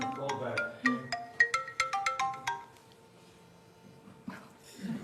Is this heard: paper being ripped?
no